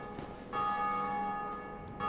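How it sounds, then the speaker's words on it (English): A church bell rings in the video game Dark Souls 1, one clear resonant toll that hangs and rings out, followed by the start of a second strike. "Darksouls 1 must really be popping off with how often we're hearing that bell"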